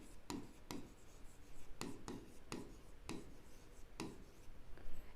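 A pen scratches out a maths solution on paper in a quiet room, with short separate strokes and taps at an irregular pace, close and faint.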